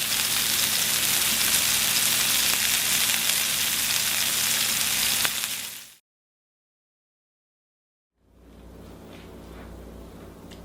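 Salisbury steak patties browning in a pan give a loud, steady, close sizzle that cuts off abruptly to silence, then returns as a quieter frying crackle.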